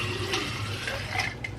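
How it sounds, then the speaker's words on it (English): Descaling liquid, about 16 ounces, pours steadily into a machine's water reservoir, making a continuous low gurgling trickle at close range with a couple of brighter splashy moments. "Pouring the descaling liquid in, and then supposedly this is 16 ounces."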